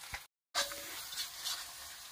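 Spice masala sautéing in hot oil for a Bengali kosha mangsho, with a soft steady sizzle and stirring scrapes, interrupted by a brief silent gap before the frying noise resumes.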